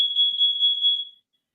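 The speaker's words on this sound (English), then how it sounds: "That was my CO2 alarm" A carbon dioxide alarm sounds a single steady, piercing high-pitched beep with a slight warble, lasting just over a second before cutting off into silence.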